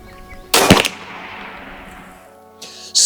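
A single loud, sharp shot from a Bin Tac M50 .50 caliber long-barrel air rifle, with a clean report that fades into a long decaying tail, followed by a brief second burst near the end.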